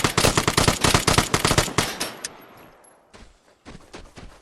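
Rapid burst of pistol gunfire in the video game Vigor, a dense string of sharp close shots for about two seconds, then fading to a few quieter scattered sounds.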